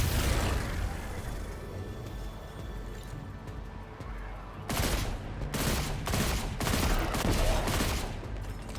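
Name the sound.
gunfire from the video game Destiny 2: Lightfall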